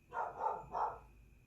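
A dog in a room nearby gives a quick run of two or three muffled barks at moderate volume, with no talking over them.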